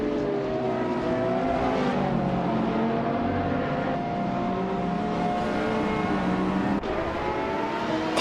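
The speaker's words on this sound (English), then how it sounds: "Platigami is driving the 2018 Ferrari F8 Tributo" A 2018 Ferrari F8 Tributo engine in a racing video game, loud and sustained at high revs with shifting pitch and a brief gear-change dip near the end.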